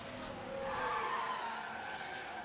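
Zhou Guanyu's Kick Sauber car crashes into turn 1 at a wet Monaco in F1 Manager 24, giving a brief, loud burst of skidding tyres and engine noise that swells and fades.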